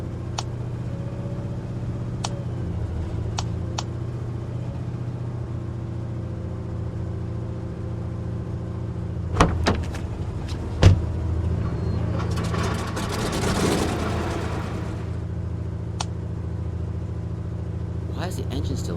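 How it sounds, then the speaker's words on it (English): A barge engine in the game Foxhole idles steadily at low pitch through the whole stretch, with a few sharp knocks and a brief noisy burst partway through, while people talk over it. "Why is the engine still on?"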